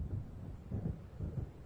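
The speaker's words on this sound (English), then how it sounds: "It seems there's a storm coming." Low, rolling thunder from an approaching storm in the game Alan Wake, heard as three soft, muffled rumbles at a distance, with no voices.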